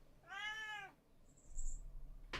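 A cat named Callie meows once, a clear drawn-out complaint standing alone, followed by a low rumbling background and a brief sharp noise at the end.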